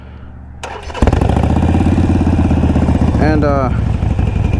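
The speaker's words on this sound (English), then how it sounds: "Let's start her up before we take off." A Harley-Davidson Sportster motorcycle cranks briefly, then fires into a loud, close, lumpy idle that rumbles steadily. Someone speaks briefly over the engine.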